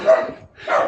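A dog outside a terraced bungalow in central Portugal gives two loud, close barks separated by a short pause.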